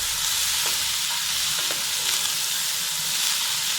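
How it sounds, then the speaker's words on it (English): Onions drop into a hot, boiling pot of Indian food, giving a steady bright sizzle and bubbling hiss with a few faint clinks, loud and continuous. "I'll drop in the onions because they will sweat while everything is boiling."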